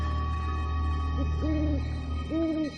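An owl hooting in a forest, two short paired hoots, each a rising-then-falling call, heard at moderate distance over a low, steady background rumble.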